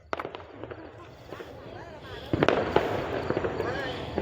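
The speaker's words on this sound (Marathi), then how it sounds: "या इथं मोठा मोठा बॉम्ब आहे" Large firecracker bombs go off at a New Year's Eve celebration, a quick run of sharp bangs and crackles that grows louder in the second half, with voices and movement nearby.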